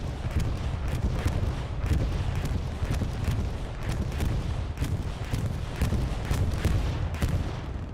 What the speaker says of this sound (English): That bombing run fully intended to delete that objective